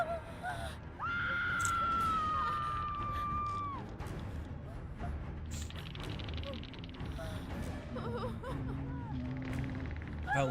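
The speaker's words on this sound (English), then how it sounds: "once the people start screaming" Game characters scream in a 2vs8 multiplayer video game: a sustained, piercing wail lasts a few seconds, followed by shorter cries and yelps over busy game noise.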